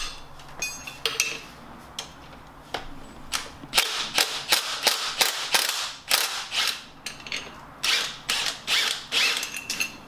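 An impact wrench removes a suspension part from a 2019 VW Golf Sportwagen, rattling out a series of sharp, loud hammering bursts with short pauses between them, close by and with no talking.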